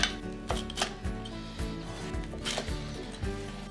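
A knife slices through a cheesy beef quesadilla in quick, crisp cuts, a series of close, soft chopping taps and crunches repeating steadily at moderate volume.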